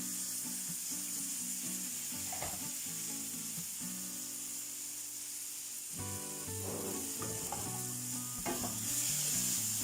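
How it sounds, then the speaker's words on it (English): A milk-and-butter cream mixture with onions and garlic being stirred in a pan while cooking with traditional greens, giving a steady close sizzle with scraping utensil strokes and knocks throughout. "you continue stirring your mixture so that it makes a very good thick soup"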